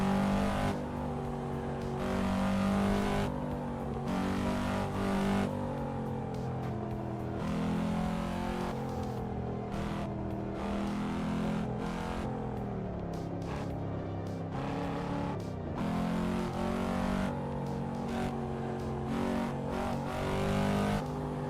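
A Cadillac CT5-V's engine drones steadily through the racing game Assetto Corsa Evo, rising and falling with gear changes and throttle, loud and continuous throughout with occasional tire squeal.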